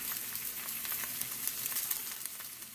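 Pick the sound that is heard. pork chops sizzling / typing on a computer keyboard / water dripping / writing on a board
pork chops sizzling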